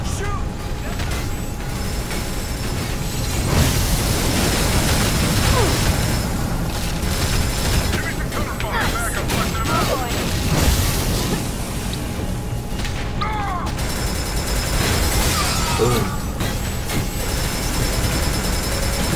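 Gunfire and explosions from the video game Fuse play in a dense, continuous wash of booms, mechanical clatter and bursts over about twenty seconds, with people talking over the action.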